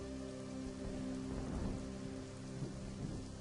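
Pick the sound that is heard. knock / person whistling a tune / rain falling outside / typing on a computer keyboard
rain falling outside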